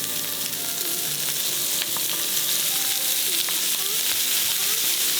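Frozen seafood, lightly salted, searing in a little olive oil over high heat until it smokes, a loud continuous sizzle with faint scrapes and clinks from the pan, close and steady.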